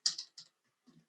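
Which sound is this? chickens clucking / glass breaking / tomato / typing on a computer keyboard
typing on a computer keyboard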